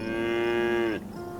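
A Jersey cow in the farming game Farm Together gives one long, loud, close moo that ends abruptly, leaving a quieter background behind it.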